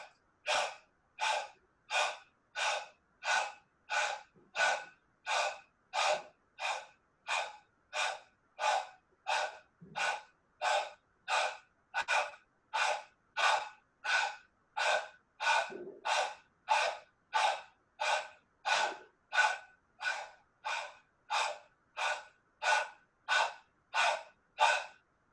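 Rhythmic breathing exercise in a hot yoga class: about thirty strong, evenly spaced breaths, each a sharp forceful burst of air, repeating steadily and close up with no talking.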